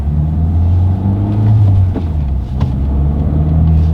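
A manual car's engine drones loud and close from inside the cabin while driving, with a low steady rumble that dips and rises slightly as the driver works the clutch and shifts gears.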